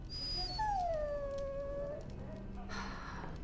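A dog in the Dragon Age Origins video game lets out a drawn-out whimpering whine, a single high, wavering cry that trails off, set over a low game ambience.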